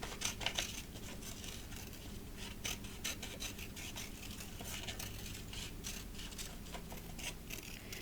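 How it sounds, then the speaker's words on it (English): Scissors snipping washi tape into a circle for an art journal page, with close, rapid clicks and rasping cuts that repeat in short irregular bursts throughout. "I'm going to use my washi tape, and I'm going to cut this in a circular fashion"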